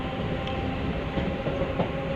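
Steady rumble of a Ramtek–Itwari MEMU passenger train running along the rails, heard from on board as a continuous dense roar with faint rhythmic wheel clatter and no voices.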